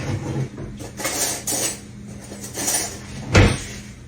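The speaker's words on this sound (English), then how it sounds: "Let me get some spoons." Spoons are pulled from a kitchen drawer, metal cutlery clinking and rattling in a few short bursts with a heavier knock near the end, close by.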